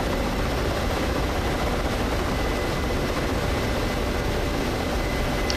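A Black Shark attack helicopter in the DCS World flight simulator flies over Las Vegas. Its engine and rotor make a loud, steady, dense droning whir that holds without a break, with no voices over it.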